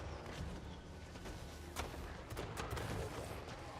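Artillery and gunfire in a video game battle, a rumbling bed of distant booms with several sharp cracks and bursts scattered through, fairly faint overall.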